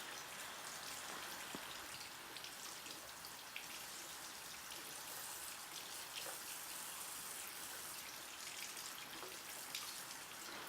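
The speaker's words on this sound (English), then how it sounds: "So here I'm just still scrubbing my brushes out." Makeup brushes scrubbed and rinsed under running water, a faint, steady hiss of flow with soft scattered splashes and small taps, continuing for several seconds.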